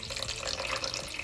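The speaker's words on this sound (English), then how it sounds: "So we're about to pour our water into our crock pot." Water poured into a crock pot over oxtails in a home kitchen, a steady close splashing stream running without a break for its whole length, with no talk over it.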